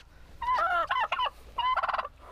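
A turkey in a barn lets out two loud, close, rapid warbling gobbles separated by a short pause, with no other sound behind them.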